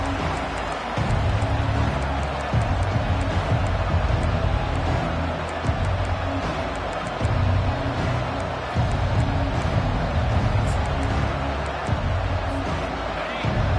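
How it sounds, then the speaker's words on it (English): A loud stadium crowd roars steadily through a college football video game at a Clemson game, a dense continuous wash of cheering with rhythmic low thumps pulsing underneath. "This crowd bringing an ear-splitting welcome to their visitors."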